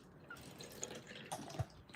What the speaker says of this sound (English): this is a water bottle, and then I'll put some water in there, switch it around, pour it out